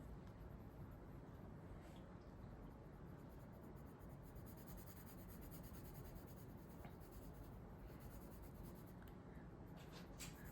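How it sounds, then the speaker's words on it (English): A black watercolor pencil lays down a thick layer on paper, producing a continuous close scratchy rubbing that holds steady and quiet throughout with no pauses. "lay down that thick layer of watercolor pencil"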